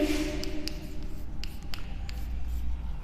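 Hand-writing notes on paper during a Sanskrit grammar lesson, with soft scratching strokes and a few brief taps close up, quiet and steady.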